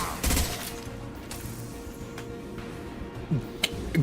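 Gunfire in the video game Mass Effect during a fight with a Krogan, with a few muffled shots and thuds spread across a busy game soundscape, fairly faint.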